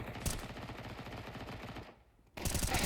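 Rapid pistol gunfire crackles in a competitive video game match, shots densely clustered, then a brief near-silent gap before another loud volley bursts in.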